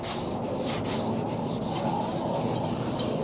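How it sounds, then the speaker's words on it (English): Van wing wet sanded with 600 grit sandpaper on a foam pad, a steady close rubbing hiss with rhythmic back-and-forth strokes about every half second, no voices. "I'm going to wet sand it back actually"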